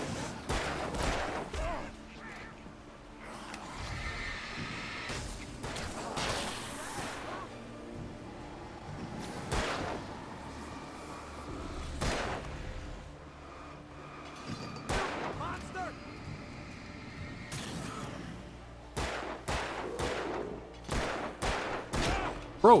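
Repeated sharp gunshots from the Alan Wake video game on Steam, irregular bursts of loud cracks spread across the stretch over a busy game soundscape, with voices talking between and over the shots.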